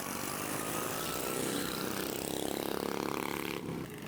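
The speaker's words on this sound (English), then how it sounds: "Lawnmower racing" Racing lawnmower engines drone loud and continuous on a dirt track at Wilkesboro Dragway, a buzzing motor note that rises in pitch before easing off, with no voices.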